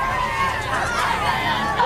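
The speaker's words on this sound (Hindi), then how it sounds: "वक्त के साथ गेम जोन में भीड़ बढ़ने लगी।" Crowd gathering in a busy game zone, a dense murmur of many overlapping voices and chatter that holds steady and close throughout.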